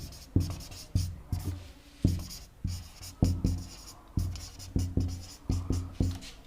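Pen writing notes by hand on paper, a steady run of short scratchy strokes in bursts, close and fairly quiet, with no talking.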